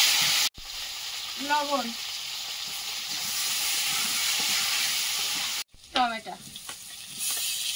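Nigella seeds, slit green chillies and potatoes frying in hot oil give a loud, steady sizzle that fills the whole clip, with brief speech breaking in over it twice.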